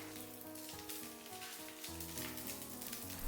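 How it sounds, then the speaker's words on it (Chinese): A potato pancake frying in oil in a covered pan, giving a steady, dense, close sizzle that crackles throughout with no talking. "像这样一面烙好以后，我们给它翻过来，再烙制另一面。"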